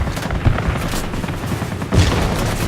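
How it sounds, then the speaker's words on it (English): Anti-aircraft guns fire in World of Warplanes as a Spitfire fights off enemy aircraft, a steady rumble of rapid flak bursts with two heavier booming thumps standing out, continuous and fairly loud. "now just trying to dodge the AA guns while I finish fighting off enemy aircraft"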